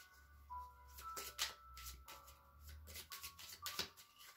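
Oracle cards being shuffled by hand, a series of crisp riffling bursts and soft flicks repeating in an uneven rhythm, close and fairly quiet with no talk during the shuffling.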